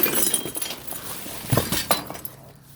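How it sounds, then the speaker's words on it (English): Broken glass from picture frames clinks and crunches in a craft store dumpster, a few sharp shattering chinks standing out over a rustling, scraping background. "And be careful, there's a lot of broken glass."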